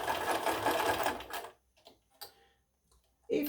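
A sewing machine stitches fabric in a fast continuous mechanical whir for about a second and a half, then stops, leaving scattered quiet clicks and rustles before a brief burst of sound.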